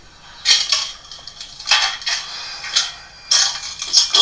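Broken glass and debris crunch and clink in a destroyed room with a caved-in ceiling and blown-off doors, several sharp bursts of clattering separated by brief pauses, fairly close.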